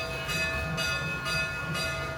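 A bell rings four times at an even, slow pace, and each strike has a bright metallic shimmer that rings out over a faint, steady hum, with no voices present.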